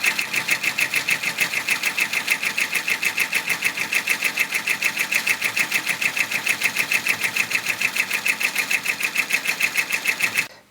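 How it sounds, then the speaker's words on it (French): An embroidery machine stitches the first part of a pattern, a fast, steady mechanical chatter of evenly spaced needle strokes running continuously at close range before stopping at the end. "Je vais maintenant broder la première partie de mon motif"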